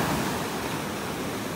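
Ocean waves wash onto a beach in North Naples, Florida, a loud, dense, continuous roar of surf at close range with no voices.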